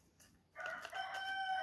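A rooster crows once, a single drawn-out cock-a-doodle-doo that rises after a brief quiet start and holds steady to the end, heard at a moderate distance.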